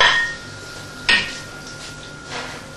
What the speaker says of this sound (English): take a bit of butter off, drop it in the pan